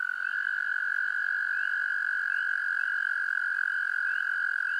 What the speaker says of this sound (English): So here is the American toad.